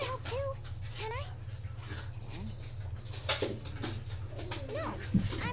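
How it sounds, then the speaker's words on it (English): Dogs play indoors in a room, giving short whimpers and yips in scattered bursts over a steady low hum, fairly close by. "dogs just gotta play right as soon as I start streaming"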